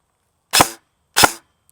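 Two sharp airsoft shots from an MCX rifle fitted with a suppressor, spaced about half a second apart, close and fairly loud with quiet in between.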